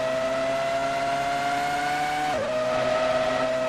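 Formula One race car engine in an Austrian Grand Prix video game set in the 2003 season, a loud steady high-pitched whine that drops sharply partway through as the car slows and shifts, then holds at a lower pitch, with no talking.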